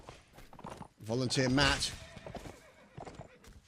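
A horse at a Civil War reenactment line battle gives a loud whinny between brief bits of nearby talk, with faint hoof and equipment sounds around it.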